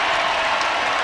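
A basketball arena crowd at an LSU versus Alabama women's college game roars and applauds after a move, a loud, dense wash of cheering that fills the whole moment.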